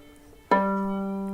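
A violin's open G string, freshly tuned, is bowed once, sounding a single sustained low note that starts abruptly, rings close and clear, and holds steady.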